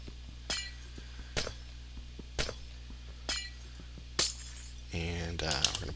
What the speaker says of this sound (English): we're going to just kill this glass